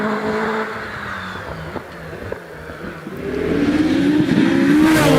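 A hillclimb race car at the British Championship event at Doune roars past, engine revving and rising in pitch as it accelerates, growing louder toward the end.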